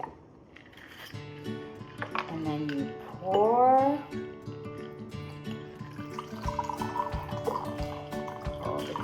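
Liquid poured into a crystal glass while making a vodka gimlet, a short gurgling fill with rising pitch in the middle, close and clear, followed by clinks and handling sounds.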